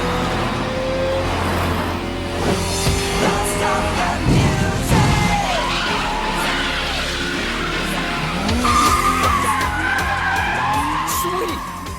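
Keisuke's Mazda FD3S sports car racing in the Initial D anime, engine roaring with tire squeal and skidding through corners, loud and continuous, with voices talking over it.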